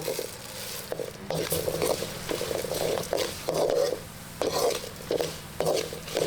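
Urad dal roasting in a pan with pepper corns, coriander and cumin, giving a steady close sizzle and crackle with repeated scraping stirs and soft patter throughout.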